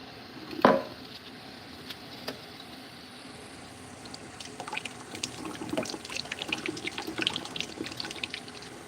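Water from a tap running and trickling into a long sausage casing, a light irregular splashing and dribbling that grows busier toward the end, with an isolated clack early on.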